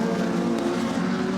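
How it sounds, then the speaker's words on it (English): A Ford Sierra touring car races at Wanneroo in 1988, its engine roaring loud and steady with a strong, sustained drone. "Now the power of the Ford Sierra will be evident."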